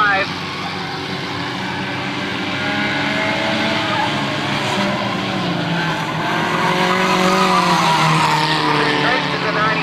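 Race cars battling for the lead on a night oval track, engines screaming loud and continuous with rising and falling pitch as they pass, tires squealing, under an announcer's commentary.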